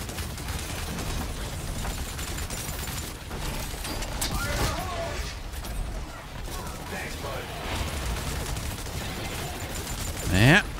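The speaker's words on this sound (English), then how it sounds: "let's keep shooting this dinosaur" Weapon fire aimed at a dinosaur in Exoprimal, with sustained rapid bursts of shots and mechanical clatter continuing for several seconds and a sharp rising sweep near the end, under occasional talk.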